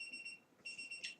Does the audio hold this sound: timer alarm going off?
yes